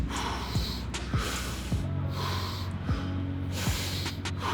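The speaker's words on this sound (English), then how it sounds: "this is forceful breathing because it's for therapy" Close, forceful breaths are pushed sharply in and out through the nose in a steady series of about six snort-like bursts, with no talk, during a therapy stretching routine.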